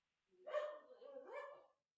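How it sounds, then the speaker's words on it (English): A pair of dogs barking and yipping playfully nearby in a short, lively burst of overlapping barks, with no talk over them. "My dogs are having more fun."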